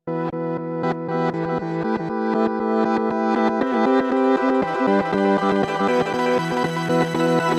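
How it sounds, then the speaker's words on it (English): A guitar runs through an Empress Super Delay in Reverse Mode C, a reverse octave-up echo. Plucked notes repeat and swell backwards, and the repeats climb higher and build into a loud, dense wash with no talk. "It was a reverse octave up echo that would shift up with every repeat"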